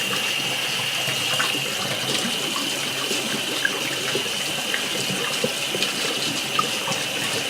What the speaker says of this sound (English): So I will wash off my hands now.